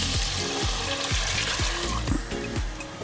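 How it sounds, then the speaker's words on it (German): Onions and carrots sizzle and fry hard in a roasting pan for braised whole rabbit, with red wine poured in to deglaze, giving a loud, steady hiss broken by rhythmic stirring scrapes. "Sauce, Zwiebeln und ein bisschen Rüebli anbräteln und mit Rotwein ablöschen."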